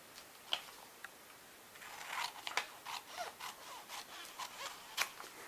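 Scissors snip paper for a junk journal binding, with a series of close, crisp cuts and rustles, some isolated snips followed by a quicker run of cutting strokes.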